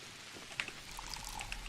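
Short gurgling pour of water in the video game Pathologic, a brief splash followed by a thin trickle and drips at low volume, alone without speech.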